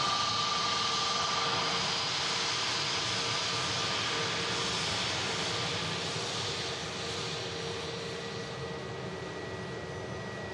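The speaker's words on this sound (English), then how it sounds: "Boeing 737 on final approach from the island paradise, sunny bucket and spade destination of London Stansted." Jet2 Boeing 737 airliner on final approach at Manchester Airport, a continuous broad engine roar and rushing hiss that stays steady and loud for the full stretch, easing slightly toward the end, with no voices.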